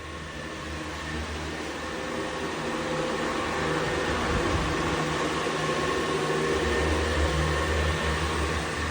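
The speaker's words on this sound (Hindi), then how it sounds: "अभी अंदर लगाया हुआ है पंखा" Electric fan running indoors to dry freshly painted kitchen walls, a steady close whirring hum with broadband airflow hiss that holds constant throughout, no voices.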